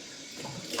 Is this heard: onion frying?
no